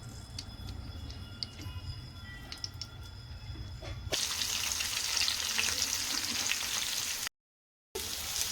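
Okra pieces coated in masala fry in hot oil with a soft crackle that turns into a louder, fuller sizzle partway through and keeps going, broken by a brief silence near the end.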